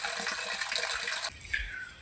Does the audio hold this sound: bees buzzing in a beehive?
no